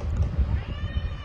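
A scared young cat indoors gives a few soft, low meows in quick succession, close by, with faint background murmur.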